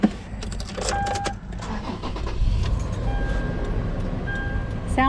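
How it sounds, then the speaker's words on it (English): A car engine starts and runs close by in a home garage setting, a steady low rumble that holds throughout with some brief mechanical clicks and whirs near the start. "I just want to see if the motor sounds the same as ours"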